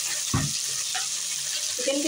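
Chicken with browned onion and garlic frying in a pot for yakhni pulao, a steady loud sizzle throughout, with a brief clunk of stirring near the start.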